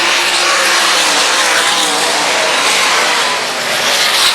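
USAC sprint cars roar around a speedway in a race, a dense, steady engine drone and tire noise held at full loudness throughout without pause.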